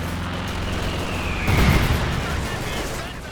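Frag grenades and gunfire in a Company of Heroes 2 two-versus-two battle: a constant wash of battle noise swells into a heavier low rumble of blasts midway, then eases back to steady background combat.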